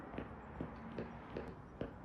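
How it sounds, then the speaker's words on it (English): Muffled footsteps in the game Passpartout, evenly spaced soft thuds about every half second under a low steady background hum. "All I can just hear is footsteps"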